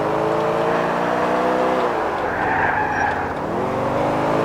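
A car races at high speed in GTA 4, its engine roaring loud and steady with a rising and falling pitch and a brief tire skid midway, close and continuous.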